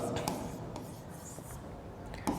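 Marker or chalk strokes on a classroom board during a medical lecture, soft scratchy scrapes in short bursts with a sharper tap near the end, close and fairly quiet with no talk.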